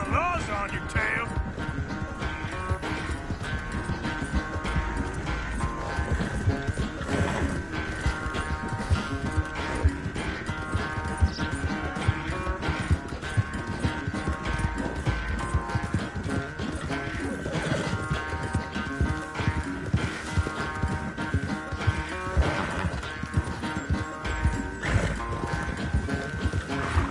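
Horses gallop in Red Dead Redemption 2 with a fast, steady thud of hooves running throughout, set under a music score while characters talk.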